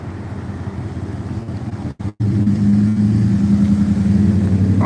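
A car passes close by on a city street, its engine swelling loud and broad with a brief dropout midway, no one talking.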